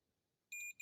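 A multimeter's continuity beep sounding while its probes touch a 5-volt point on a circuit board, a sharp high electronic tone lasting about a quarter second, then a brief second chirp, in an otherwise quiet room.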